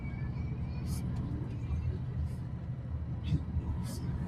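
A vehicle drives along a road through the hills near Mecca, its steady low engine and tyre rumble filling the cabin alone, with a few faint clicks over the top.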